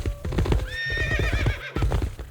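Horses of Mongolian Horse Archers in the game Stronghold: Warlords whinny over steady clip-clopping hooves, a loud, close, busy mix of galloping and a wavering neigh.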